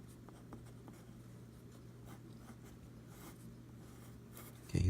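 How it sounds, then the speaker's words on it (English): Pen or pencil drawing an ice mage character with a hood: soft, faint scratchy strokes on paper over a steady background hum, with no talk, and a brief loud bump at the end. "So we're gonna draw him with a hood."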